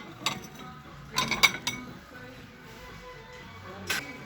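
Small plates in a discount store knock and clink together as they are handled, a few sharp bright taps in two brief clusters with a softer one after, fairly quiet and close.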